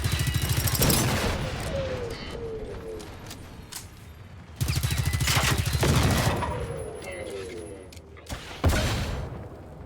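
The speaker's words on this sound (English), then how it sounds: "We do want to try out our new submachine gun as well." Bursts of rapid automatic submachine gun fire from the video game Generation Zero, two long strings of shots with short taps between, loud and close.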